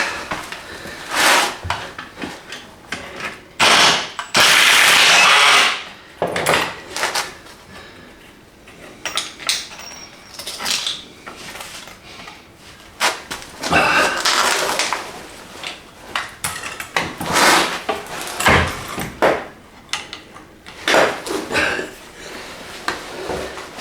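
A trapped wooden board is knocked loose and down from a wall at a Portuguese quinta, heavy wooden bangs and clatters in bursts with rattling and scraping between them, no talking.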